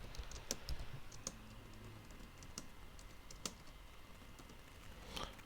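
Soft keystrokes tap on a computer keyboard as a meeting title is typed into an Outlook room booking, irregular and faint against a low steady background hiss.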